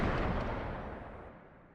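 A single heavy gunshot from a Supernatural TV episode booms loudly at the start and fades into a long, rumbling reverberant tail, with no voices over it.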